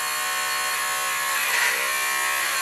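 A high-pitched electric nail file grinds steadily on a dog's nails during grooming, a continuous close whirring buzz with a slight change in pitch as it presses against the nail.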